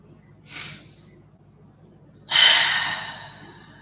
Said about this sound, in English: Let's take deep breaths.